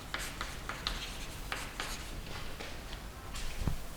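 Pen or pencil scratching across paper while writing out a mathematical relation, a steady series of short strokes and scrawls with a brief tap near the end, no voice.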